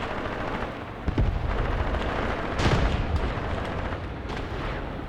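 A tank and infantry battle in the WWII tactics game Graviteam Tactics rumbles with continuous gunfire and booming cannon blasts, dense and loud throughout, with heavier thuds standing out along the way.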